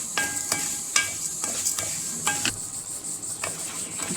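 Oil and a spoonful of ghee sizzle steadily in a pan, a close, continuous hiss broken by several sharp taps and scrapes of stirring against the pan.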